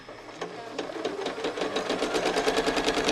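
A sewing machine runs steadily, stitching quilt seams with the presser foot guided along a ruler, its needle chattering in a fast, even rhythm that builds slightly louder and stays close and continuous throughout.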